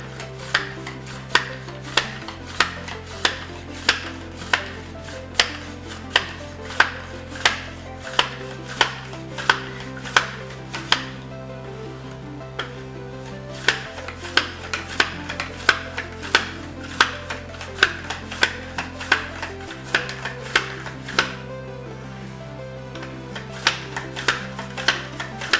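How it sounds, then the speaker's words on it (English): A mandolin slicer cuts a carrot in a steady series of sharp, regular scraping clacks, close and loud, repeating for the whole stretch over soft background music with no voices. "Then I'll use a mandolin to slice the carrot,"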